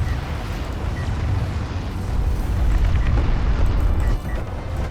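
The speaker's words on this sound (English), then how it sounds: "Uh-oh, but it's the auto-fire nuke." A huge rumbling nuke explosion in the real-time strategy game Homeworld: Deserts of Kharak, heard as a loud, sustained, low roar that swells and holds for several seconds before easing off slightly.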